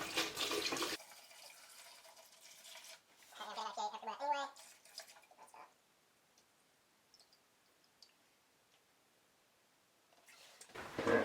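Isopropyl alcohol is poured into resin-printing wash containers in short, close bursts of liquid splashing and trickling, separated by near silence and followed by a few faint drips.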